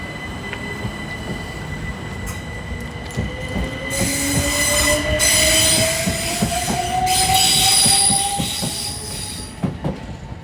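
London Underground train running with rising motor whine and rhythmic wheel clicks over the rails, growing louder and squealing midway, then easing as it slows near the end; no talk.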